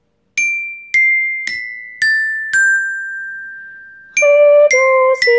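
A carillon rings a descending run of five struck notes, Re, Do, Si, La and Sol, each clear and bright with a long ringing decay, followed by a quicker cluster of further chimes.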